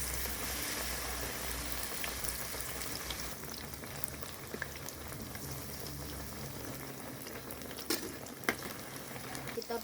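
Tempeh frying in hot oil, a continuous crackling sizzle with scattered pops throughout, close and steady, with no talking.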